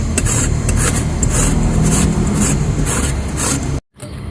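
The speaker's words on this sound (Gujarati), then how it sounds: "તો આખી કેરીનું છીણ કરી લઈશું" Raw mango is rubbed over a grater for gunda pickle, making loud, close, rhythmic rasping strokes in quick succession that stop abruptly near the end.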